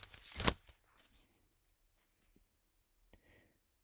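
A card is drawn from the Life's Potluck Buffet card deck: a brisk papery riffle at the start, then faint taps and a light slide, close and quiet, with no speech.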